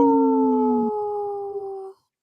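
A human voice imitates a wolf howl, a long rising-and-falling tonal wail held for about two seconds, loud and close, then cut off sharply to silence.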